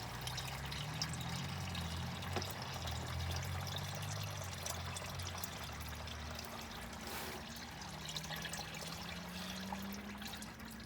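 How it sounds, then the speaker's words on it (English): Transmission fluid drains from a Honda Element during an automatic transmission fluid change, a soft continuous trickle and pour with a faint low hum underneath, steady and fairly quiet throughout. "we're going to go ahead and drain that fluid again"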